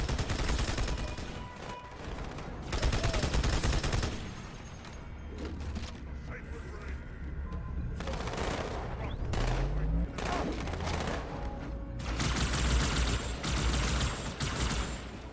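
Bursts of rapid gunfire from Halo: Combat Evolved repeat in dense volleys with brief lulls between them. Mechanical clatter and booms are mixed in, and voices are heard now and then.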